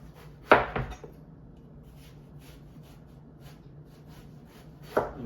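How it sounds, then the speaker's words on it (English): A knife slices through an eggplant into half-inch steaks on a cutting board, giving two crisp cuts close together at the start and another cut near the end, separated by quiet. "you start cutting it into eggplant steaks"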